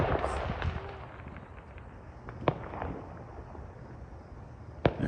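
Fireworks pop and crackle in a scattered series outdoors, with two sharper bangs standing out over a busy background of faint bursts and ambient noise.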